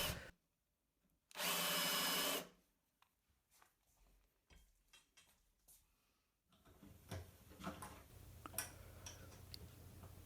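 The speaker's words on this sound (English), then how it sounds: "I'm going for bigger and bigger drills" A drill bores progressively larger holes in the wood of an acoustic guitar body for fitting the neck. One loud, close whirring burst stands alone early on, followed by scattered clicks and rustling handling noise.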